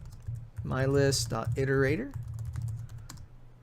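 Computer keyboard typing while entering programming code, light key clicks running under a man's steady explanatory speech that dominates the foreground.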